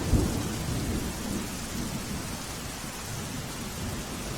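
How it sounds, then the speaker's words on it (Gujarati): Heavy rain pouring in Gujarat with thunder, a dense, loud, continuous roar of rainfall and a low rumble of thunder near the start. "તો રાજ્યમાં અવિરત વરસાદ વરસી રહ્યો છે।"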